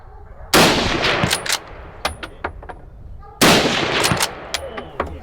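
Two loud rifle shots cracking out a few seconds apart during a driven wild boar hunt in France, each with a sharp report and a rolling echo through the surroundings.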